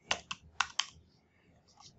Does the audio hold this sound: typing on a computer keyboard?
yes